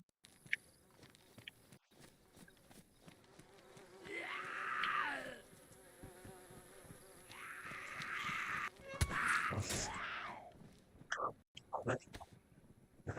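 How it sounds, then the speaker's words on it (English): A buzzing insect in the game DayZ, set in the Livonia map, drones in two swelling passes over quiet outdoor ambience, with a few sharp clicks and thuds between them. "Hear that buzzing sound?"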